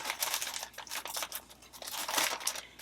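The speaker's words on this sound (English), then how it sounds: "Actually, I'll throw a piece of tape on." A piece of tape being torn to seal a shipping package, with crackling, ripping bursts that come in quick, uneven pulses, close and fairly loud, and nobody talking.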